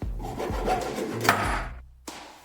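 A large plastic bottle having its top cut away, a close scraping, rasping cut with a few sharp crackles of the plastic, steady throughout with a brief pause near the end.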